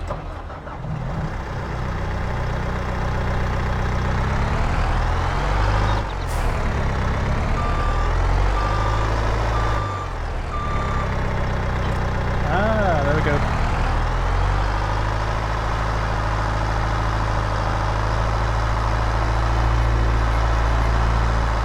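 A tractor in Farming Simulator 22 reverses and parks, its engine droning loudly throughout with rising and falling revs and a steady series of reversing beeps partway through, while someone talks over it.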